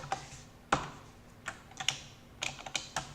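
Keystrokes on a computer keyboard while a terminal command is entered, a sparse, irregular run of crisp clicks with a heavier strike near the start, close by and alone against a faint steady hum.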